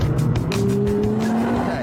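A car with a 3.8-litre twin-turbocharged V6 engine drives at speed, a steady loud engine note rising gradually in pitch with tyre noise, close and continuous throughout.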